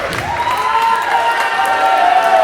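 A wrestling arena crowd at a Twin City Wrestling title match in Dartmouth, Nova Scotia, cheering and applauding loudly and steadily, with a sustained rising shout carrying over the clapping.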